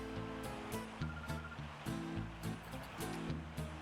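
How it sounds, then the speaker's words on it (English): Water ambience from the GameCube game Pokémon Colosseum: a soft, continuous wash of waves under a rhythmic, tonal musical backing, quiet and even throughout. "water sound effects are quite nice"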